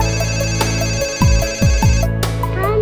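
A telephone ringtone plays during a call home, a steady electronic ring pattern repeating loudly over a musical backing, with no speech.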